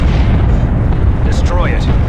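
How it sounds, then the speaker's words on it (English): Artillery shells explode in Warhammer 40,000: Dawn of War II – Chaos Rising, a continuous heavy rumble of booming blasts with sharper bursts cracking through near the end. "Incoming artillery strike."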